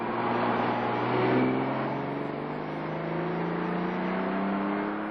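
New Ferraris and Lamborghinis zip and zag around a parking lot at the Arrowhead Pond of Anaheim, engines droning and revving steadily at moderate distance, one swelling slightly louder as it passes, with no talk.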